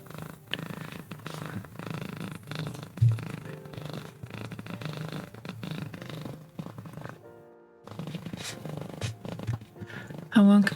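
A cat purrs steadily up close, a low continuous rumble with scratchy rubbing and shuffling noises, and a voice speaks over it at times.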